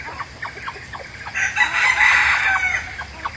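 Backyard chickens cluck in short repeated bursts, then a rooster crows loudly and fairly close, with the clucking carrying on around it.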